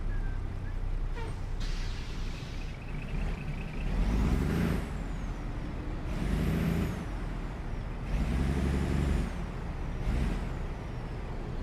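A Peterbilt 389 in American Truck Simulator brakes while heavy hauling at 82,000 pounds, with loud hissing air-brake bursts that recur every couple of seconds over a rumbling engine drone.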